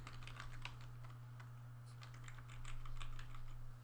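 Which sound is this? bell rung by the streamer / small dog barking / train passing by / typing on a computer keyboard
typing on a computer keyboard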